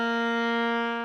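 Single sustained bowed viola note, a B flat reached by a half-step shift, held steady and bright for about a second with no talk.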